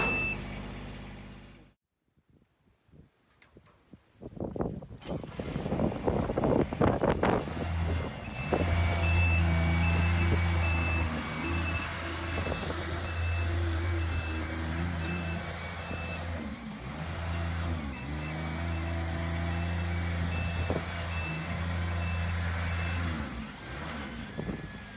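A Skyjack SJ6826 RT rough-terrain scissor lift platform lowers with its motor droning steadily while a regular electronic alarm beep repeats throughout, following a few clunks at the start.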